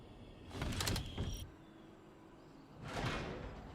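A door slides open in the tactical shooter Valorant, with two loud mechanical whooshing sweeps separated by a quieter pause of low background hum.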